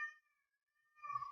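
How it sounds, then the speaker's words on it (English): A pet cat named Winston meows twice, close by: one drawn-out, clear meow, a brief pause of silence, then a second, rougher and more throaty meow. "So like my cat here, that's Winston."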